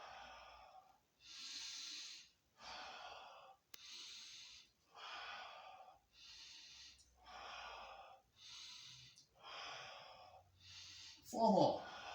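Steady series of about ten forceful breaths at a measured rhythm during Pilates breathing crunches, each a second-long airy rush close to the mic, ending with a sharper, louder gasp.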